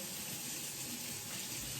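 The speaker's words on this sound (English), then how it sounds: "So 2 cups of warm water." Warm water poured from a tap-like stream for bread dough, a continuous, close gushing flow with no voices.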